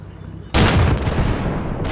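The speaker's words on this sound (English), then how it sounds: "The first shot misses. The Panther fires" A Panther tank cannon fires in a Normandy 1944 battle in the Combat Mission video game: one sudden, loud blast that rolls into a long rumbling decay, with a second sharp report near the end.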